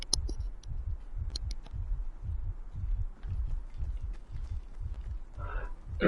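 Rhythmic low heartbeat thumps pulse steadily in Fortnite near a hidden Fortbyte, a near, even throb repeating about twice a second under faint ambient game noise.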